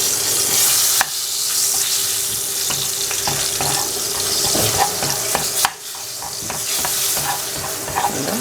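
Onions and vegetables fry in oil in a pan for a frittata, a constant loud sizzle with occasional stirring scrapes and clatters.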